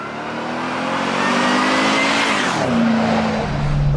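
Engine and exhaust of a 1995 Toyota Land Cruiser, restored with a Magnuson stainless chambered muffler and a single exit. A loud, close drive-by swells as the engine revs, then the pitch drops and settles into a steady drone.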